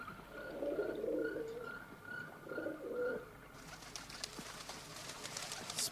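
A white pigeon or dove coos in repeated soft low phrases, with faint chirps and rustling ambience, a brief burst of brighter noise toward the end.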